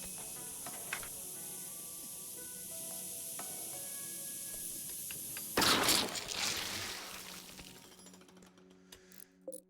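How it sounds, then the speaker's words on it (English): A fire foam popper in RimWorld bursts and sprays foam: a sudden loud hissing rush that swells abruptly and then fades over a few seconds, following a stretch of quieter game ambience with small clicks and tones. "The fire foam popper did its job"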